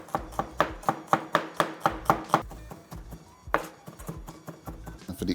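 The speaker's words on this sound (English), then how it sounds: "So now we're just gonna smash some garlic." Garlic cloves are smashed and worked on a cutting board while preparing sautéed garlic butter shrimp: about a dozen sharp, evenly spaced knocks, close and clear, followed by softer, irregular taps.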